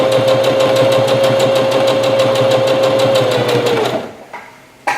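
A sewing machine driven by a foot pedal stitches at speed in a library sewing class, making a loud, even, rapid needle chatter with a steady motor hum that halts near the end, leaving a brief quiet and one last click.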